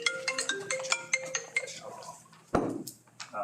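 A mobile phone ringtone plays as a repeating series of bright electronic tones during a committee meeting, followed by a sharp clink and faint background room noise.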